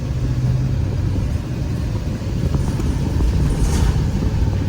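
A 2014 Chevy 4500 Glaval mini bus with a wheelchair lift drives along a road: a steady, loud low rumble of engine and tires continues throughout, close and uninterrupted.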